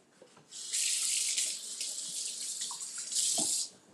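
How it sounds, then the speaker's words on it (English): Hands washed under a running kitchen sink faucet, a steady close stream of water splashing for about three seconds with brief rises and no talking. "Wash my hands."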